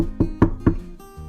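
Three firm, evenly spaced knocks on a door, close and loud, each a hollow wooden thud, followed by a faint softer tap.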